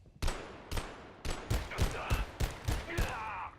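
Gunfire in the video game Abiotic Factor, about eight loud punchy shots in a steady rapid rhythm over a few seconds, close and dominant, with a brief voice sound near the end.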